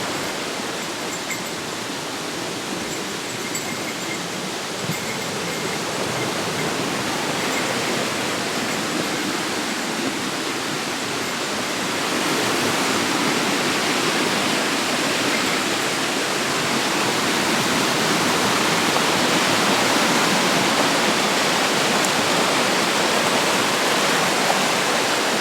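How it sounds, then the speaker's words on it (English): A small waterfall on a stream by a Shinto shrine in Japan gives a steady broadband rush of falling water that swells slightly louder midway, close and continuous with no voices. "There's a little waterfall over there."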